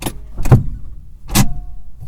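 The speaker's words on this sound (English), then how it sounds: "Even listen to the emergency brake." A car's emergency brake being pulled, giving a few distinct close mechanical clicks and ratchets in a quiet interior, three main bursts separated by short pauses.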